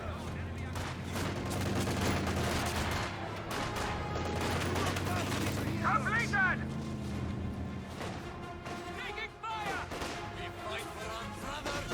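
Company of Heroes 2 battle with rifle and submachine-gun fire crackling continuously amid explosions and rumbling vehicles, steady and fairly loud throughout, with a narrating voice over the top.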